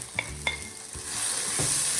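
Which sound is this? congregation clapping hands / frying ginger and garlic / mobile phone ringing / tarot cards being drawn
frying ginger and garlic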